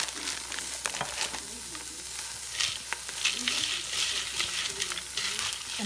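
Pot roast ingredients being stirred around in a hot pot, a steady close sizzle with intermittent scraping and clinking of the spoon, with no talking.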